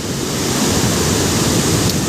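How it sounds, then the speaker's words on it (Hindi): Flood water rushing past the Kabul river barrage during a high flood, a dense continuous roar of turbulent water, loud and steady with no voices. "ये किस तरह से पानी पूरी स्पीड से तुग़यानी और बेरहम मौजों की मानद यहाँ से गुज़र रहा है।"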